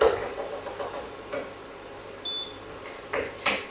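Quarter of a medium onion sautéing in oil in a pan, a steady soft sizzle with a few light clinks and stirring scrapes, close and alone.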